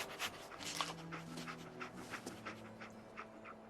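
The dog Dogmeat panting in the Fallout 4 video game, quick soft rhythmic breaths heard close up over faint ambient game sound.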